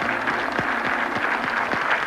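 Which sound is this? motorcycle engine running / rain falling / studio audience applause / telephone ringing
studio audience applause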